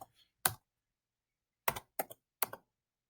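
A computer keyboard clicks sparsely in a quiet room as an IP address is entered: a single keystroke, then a quick burst of a few close, crisp taps with brief pauses between them.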